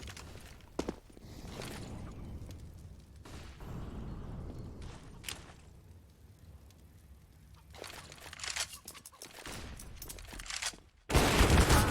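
Gunfire in a Counter-Strike match on the Inferno map: scattered sharp shots and clicks over a low ambient rumble, with a louder dense burst at the very end.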